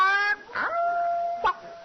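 A dog howls in two long, wavering tones broken by brief yelps, close and clear with no other sounds around it.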